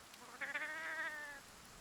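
A single drawn-out cat meow from Monster Hunter World, rising into a clear tonal cry for about a second then fading, heard alone against a quiet background.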